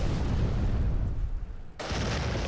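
A missile strike explosion from an ICBM in a strategy video game roars as a loud, sustained broadband rumble, dips briefly, then returns as another heavy blast.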